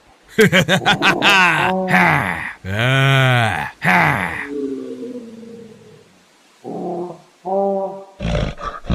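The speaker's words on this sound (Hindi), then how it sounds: "तभी वह काला बंदर जोर जोर से चिंघाड़ने लगता है।" A big black monkey in a village story shrieks and roars loudly in long, harsh, rising and falling cries, then breaks into shorter chattering bursts close up, with no talk over it.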